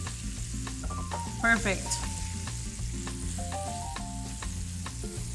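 Shrimp and green onions sizzling steadily in a frying pan for keto shrimp tacos, a constant close hiss with a few stirring clinks, under light background music and a brief spoken word.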